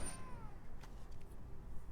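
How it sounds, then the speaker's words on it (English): A short cat meow at the very start, moderately close and fading quickly, followed by faint background noise and a couple of soft clicks. "Who's my favorite cat?"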